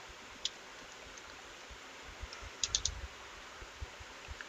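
Faint clicks of typing on a computer keyboard, a few scattered keystrokes and a short quick burst near the middle, heard close over a low steady hiss.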